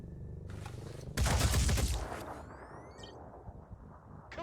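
Gunfire in the video game Phoenix Point: a short burst, then a louder sustained rattling volley lasting about a second, fading into ringing tones and faint mechanical clicks, with no speech.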